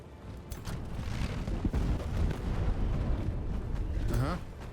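Artillery barrage in the fantasy strategy game Age of Wonders 4, a dense run of booming explosions and rumbling impacts that stays loud for several seconds, with a whistling, chirping effect near the end.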